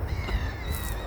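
A pigeon calls nearby on a Paris street, giving a short, loud, harsh call over steady low city rumble.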